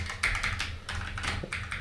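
Computer keyboard keys pressed and released one at a time while steering in the 1988 MS-DOS game Speed Zone, a quick run of close, crisp clacking taps over a low steady hum.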